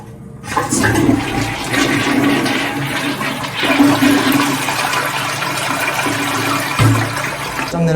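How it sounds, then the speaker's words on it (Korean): A toilet in a small residential bathroom flushes with a loud close rush of water that swirls and gurgles steadily for several seconds as the bowl drains. "그리고 다음으로 변기물도 잘 내려가는지 봐줘야겠죠?"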